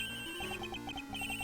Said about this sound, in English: That's her cell phone.